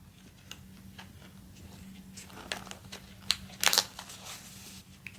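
Trading cards slipped into binder pockets with soft plastic crinkles and light taps, quiet and close, with a brief louder rustle near the end.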